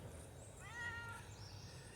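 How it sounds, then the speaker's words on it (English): A house cat lets out a single faint meow partway through, soft and somewhat distant over a low, steady background hum. "Go away, kitty cat."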